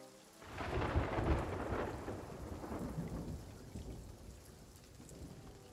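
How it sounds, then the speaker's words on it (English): Storm at sea in the pirate game Sea of Thieves, with steady heavy rain and rolling thunder that swells loudly near the start and then settles into a continuous downpour, with no voices. "there's a little bit of a storm going on"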